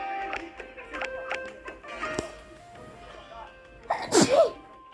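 A single sharp sneeze bursts out loudly near the end, after a stretch of soft clicks and faint background game noise.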